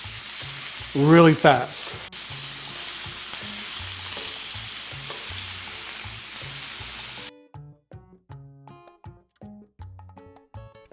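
Flank steak for tasajo sizzles loudly on a hot grill for about seven seconds, a steady broadband hiss with a brief voice near the start, before it cuts to quieter, unrelated rhythmic sounds.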